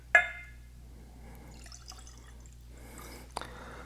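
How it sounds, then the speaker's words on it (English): Evan Williams Bottled in Bond bourbon is poured into a glass, starting with a sharp clink and brief splash, then quiet trickling and a small final knock of glass in a hushed room. "A little more than what I was thinking I was going to pour there"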